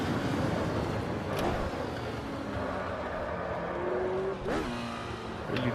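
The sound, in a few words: race cars driving in video game Automobilista 2 (AMS)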